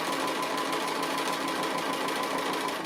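A sewing machine stitches a fabric appliqué shaped like a rolling pin. A steady, continuous, close whirring hum runs unbroken with no pauses.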